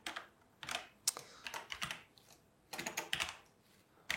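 Keys clatter on a computer keyboard in irregular bursts of quick taps, close and fairly quiet, with brief pauses between runs of typing.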